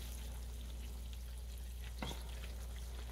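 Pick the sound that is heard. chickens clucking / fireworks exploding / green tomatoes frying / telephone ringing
green tomatoes frying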